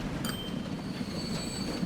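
In Transport Fever 2, a game train rolls into a station, a steady low rumble of wheels on track with a high metallic squeal ringing over it for the whole short stretch.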